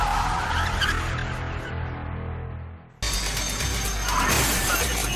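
A stolen truck fleeing police skids and crashes, with grinding tire noise and a rough mechanical roar that fades, then cuts to a loud burst of crashing, scraping vehicle noise.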